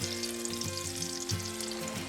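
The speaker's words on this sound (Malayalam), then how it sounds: "നമുക്കിനി ഇത് വറുത്ത് കോരി എടുക്കാം" Sukhiyan, a sweet fritter, fries in hot oil in a steady, close sizzle with soft bubbling and no voices.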